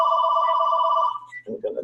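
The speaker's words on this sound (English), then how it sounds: "my phone is ringing." A mobile phone rings steadily with a tonal electronic ringtone during a memorial keynote talk, then cuts off abruptly as a voice briefly starts speaking near the end.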